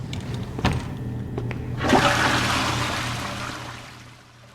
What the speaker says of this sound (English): make sure you flushed any toilet in this location and then move on to the next level